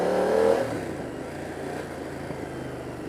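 BMW F 900 R motorcycle engine revving up during a test ride on Mumbai streets, a loud throaty surge in the first half second that settles into a steady running drone.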